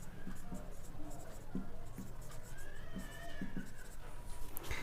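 A math definition is being written out by hand, with soft, faint scratches and taps of pen on paper in short irregular strokes over a quiet room hum.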